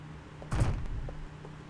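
A zombie bangs on a door in The Dead Linger, a single dull, heavy thump with a short rumbling tail, over a constant low hum and faint scattered knocks.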